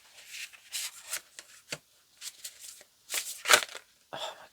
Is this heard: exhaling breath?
no